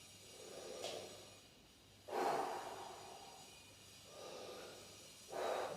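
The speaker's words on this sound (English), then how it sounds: "take that big deep breath" Slow, deep breathing up close, with long airy inhales and exhales repeating about four times in a quiet room, no talking.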